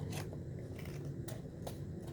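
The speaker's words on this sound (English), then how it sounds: "So these scissors take out a piece." Small scissors snipping a stained glass pattern, a few short, close crisp cuts with brief pauses in a quiet room.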